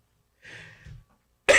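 A single person's short, soft cough in a quiet room, followed after a pause by a louder abrupt burst of sound.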